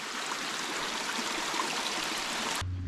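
Mountain stream near Moorea rushing steadily over rocks, a dense, even wash of flowing water held close and loud for almost three seconds before cutting off abruptly.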